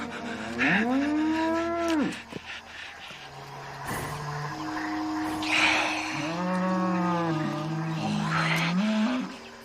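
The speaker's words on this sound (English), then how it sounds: "Go on, you old fool cow." A cow moos loudly and up close in several long, drawn-out lowing calls that rise and fall, heard alone with no talk over them.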